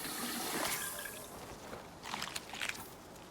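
Plain water pouring in a steady, fairly soft rush that swells and then ebbs, with brief splashy bursts toward the end, heard close up with no talking.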